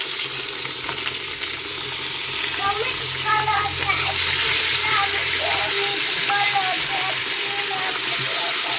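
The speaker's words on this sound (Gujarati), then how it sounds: "તો જો આ રીતના ફ્રાય પાકવાનું ચાલુ છે" Farai snack frying in a pan of hot oil, a continuous bubbling sizzle with crackling pops throughout, close and fairly loud, with no talk.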